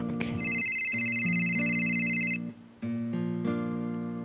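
A telephone ringing with a bright repeating electronic ringtone over a steady tonal melody, loud and close, briefly dropping out before resuming.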